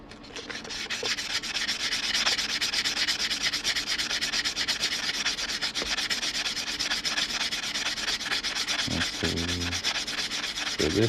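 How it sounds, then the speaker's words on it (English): Cut edge of a quarter coin ring being sanded, a steady, close rasping rub that continues throughout with a few brief knocks near the end. "I'm just going to sand up this cut edge real quick."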